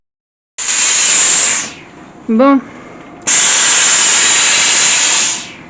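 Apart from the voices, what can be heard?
hiss of steam during car interior cleaning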